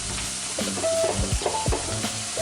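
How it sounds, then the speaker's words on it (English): Shrimp and peppers sizzling in a pan of brown butter, a steady loud frying hiss broken by stirring scrapes and clatter, with no talk. "all we're gonna do is throw our shrimp and peppers right in"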